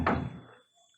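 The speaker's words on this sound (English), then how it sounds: "Knock on the door" A single dull knock-like thud lands on a wooden door in a radio drama, close and resonant, decaying quickly into near silence with no voices.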